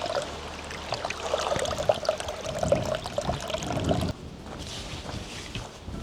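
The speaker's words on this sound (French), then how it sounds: "l'eau elle coule ici un petit peu" Water trickles steadily over rocks beside a mountain trail near the Pic de Crigne in the Hautes-Alpes, a continuous close splashing wash that drops slightly quieter partway through.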